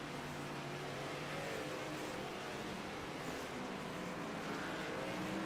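Race car engines drone and rev continuously on the Indianapolis road course in iRacing, a dense, steady roar with shifting pitch from several cars at moderate distance.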